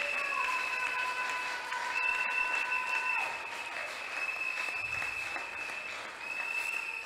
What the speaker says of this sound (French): J'aimerais quand même que vous puissiez acclamer pour eux.